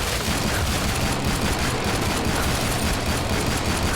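Dense, continuous gunfire in a video game, including pistol shots, forms a loud, unbroken clatter of rapid shots that runs for the whole stretch with no talk.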